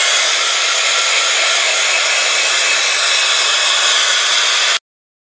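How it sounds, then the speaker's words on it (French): A heat gun blows hot air over paint on a canvas frame, a loud, steady, close roaring whoosh that runs unbroken for several seconds and then cuts off abruptly. "Donc je vais sécher un peu au heat gun."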